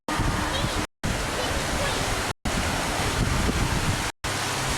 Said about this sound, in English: This is called the Queen River